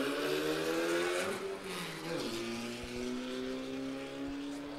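Formula First single-seater race cars roar away from a standing start at the beginning of a one-hour Grand Prix in New Zealand, engines revving and climbing through the gears together, loud and close, with no one talking.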